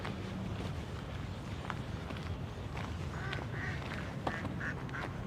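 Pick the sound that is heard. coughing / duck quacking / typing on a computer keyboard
duck quacking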